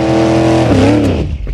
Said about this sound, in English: All that kinetic energy from the F-150 just plows right through the Camaro and pushes it back.